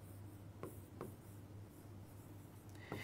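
A single word is handwritten on paper, with faint scratchy pen strokes in a few short bursts over a low steady hum.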